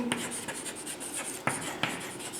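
Chalk or marker writing on a classroom board during a maths lesson: faint scratchy strokes with a few short, sharper taps, quiet and close, with no talk over them.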